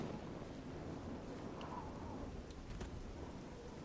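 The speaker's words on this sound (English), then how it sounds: "Rain sounds are pretty nice too. It is fucking downpour now." Heavy downpour in the fantasy game Elder Scrolls IV: Oblivion, a thick, steady roar of rain with deep rumbling thunder rolling beneath, fairly quiet overall.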